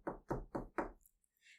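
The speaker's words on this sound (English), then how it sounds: "knocks on the door" Four evenly spaced, solid knocks on a wooden door, close and distinct, followed by quiet and a faint rustle.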